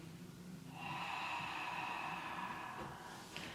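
A slow, deep breath during a yoga stretch: a single long, soft airy exhale lasting a few seconds, close and quiet, with no talking.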